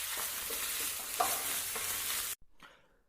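Butter garlic fried rice with spring onion is stirred in a hot pan, giving a steady loud sizzle with light scraping. The sizzle cuts off abruptly, followed by a brief faint clatter.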